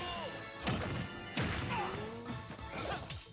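Forward smash attacks land in a Super Smash Bros match, three loud crashing impacts about a second apart, each with a descending whoosh, set against game music and effects.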